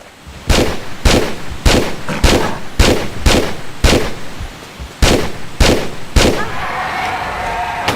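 Repeated loud shotgun blasts in Tomb Raider III, about ten sharp booming reports spaced roughly half a second apart, each with a short ringing tail, ending in a lingering metallic ring.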